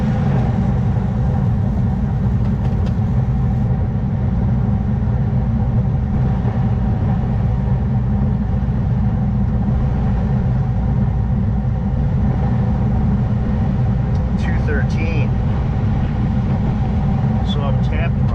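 A Carrier rooftop HVAC unit runs with a steady, loud low-frequency drone and hum that holds throughout, with a few faint higher chirps or squeaks near the end.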